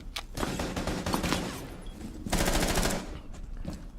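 Rapid automatic gunfire from Rainbow Six Siege crackles in two dense bursts, separated by a short lull, loud and close.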